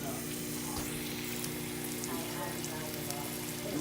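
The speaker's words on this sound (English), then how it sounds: "Right now we're just searing it off for her because she does like a nice brown crust" Ham hocks sear in hot oil with a steady broadband sizzle and crackle, continuous and close throughout with a low hum underneath.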